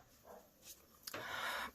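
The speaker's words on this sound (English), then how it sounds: "the dog's back at it, and my dogs are all riled up again" Several agitated dogs whimper and yelp faintly in the background of a home, short excited bursts that swell toward the end, heard at a distance.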